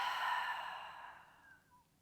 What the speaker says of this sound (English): Open mouth, exhale.